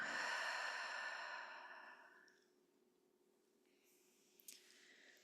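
A long, slow exhale in a guided breathwork session, breathy and close, fading out over about two seconds into near silence with a faint soft sound near the end.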